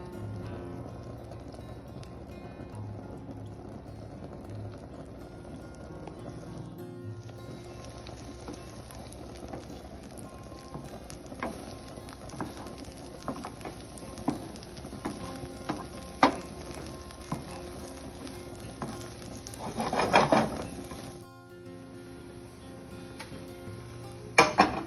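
Raw eggs cooking in a pan with melted home-canned butter, giving a soft steady sizzle with faint crackles and occasional clinks near the end, quiet and close, with no talking.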